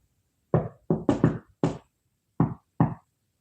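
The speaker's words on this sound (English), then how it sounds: "I'm also hearing that knock." Seven sharp knocks in irregular clusters, close and fairly loud: a single rap, a quick double, another single, then two spaced raps after a pause, with silence between them.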